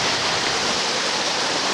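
Rushing river water flowing beside a shaded bank, a dense, constant broadband roar that is loud and close with no breaks or voices.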